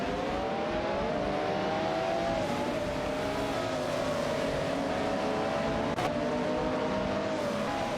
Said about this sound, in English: We are here to watch our controlled cars race against each other in a simulator